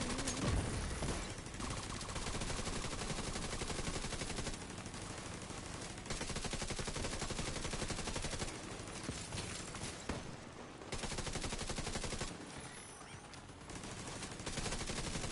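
Automated turret in The Division 2 firing: long, rapid bursts of machine-gun fire in a dense rattling stream, broken by brief pauses, loud and continuous throughout.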